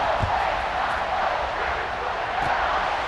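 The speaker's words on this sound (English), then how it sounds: "this crowd is buzzing after that last score" A stadium crowd in EA Sports College Football 26 buzzes after a score, a steady, dense roar of many voices that holds loud and unbroken throughout.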